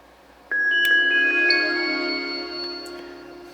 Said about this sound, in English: You'll hear that chime go on.